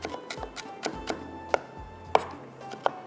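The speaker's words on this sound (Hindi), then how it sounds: "थोड़ा सा और चॉप कर लेती हूँ इसको जब तक कि ऑयल हमारा गर्म हो रहा है।" A knife chops ingredients for a prawn curry on a board in a home kitchen. It makes about eight crisp, irregular strikes, some sharper and louder than others, with no voices.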